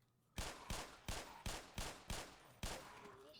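Seven gunshots fired in the Black Mesa video game, sharp loud bangs spaced in an uneven rhythm with short decaying tails, alone without talk.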